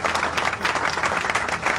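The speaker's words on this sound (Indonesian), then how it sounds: "Kita berikan tepuk tangan yang terbaik untuk Tuhan Yesus." A church congregation at a morning prayer service claps together, a dense, fairly even burst of applause lasting under two seconds with no talking.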